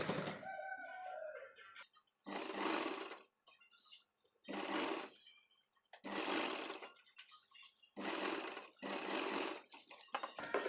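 A sewing machine stitches a 2-inch-wide fabric strip onto a princess-cut blouse, running in four or five separate bursts of about a second each, with quiet pauses between.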